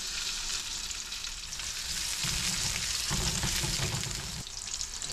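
Chopped garlic sizzling in hot cooking oil in a pan for yakisoba, a dense, steady crackling hiss close up with no voices.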